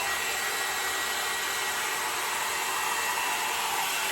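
A hair dryer blows hot air at a steady, loud broadband roar that holds unchanged from start to finish with no pauses.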